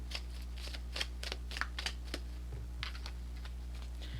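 Oracle cards shuffled by hand in a quiet room, giving a run of soft, papery riffles and flicks about every half second under a steady low hum, with no voices.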